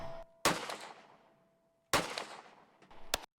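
Real gunshots fired at a steel target: three sharp, loud reports spaced about a second and a half apart, with a clear metallic ting ringing on after the first shot.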